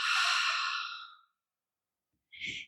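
A long, steady breath pushed out slowly during a somatic movement exercise, loud and close, fading out after about a second, then a brief softer breath sound near the end; no talking.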